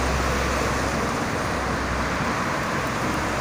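Dense holiday traffic on the Jakarta–Cikampek toll road forms a steady, loud roadway roar, broad and unbroken, with no distinct single vehicle standing out over the whole stretch.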